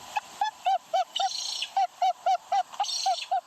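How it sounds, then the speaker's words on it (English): Ibis calls played from recordings inside fake ibis decoys: a loud, steady series of short, nasal honking cries, repeated about a dozen times in quick rhythm, with brief bursts of hissing noise between some of them. "planting fake ibises that play recordings of their calls"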